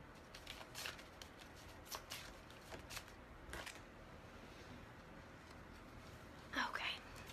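Tarot cards shuffled by hand at a table, a soft papery riffle and shuffling rustle running in faint bursts, with a brief louder clatter near the end and a whispering voice.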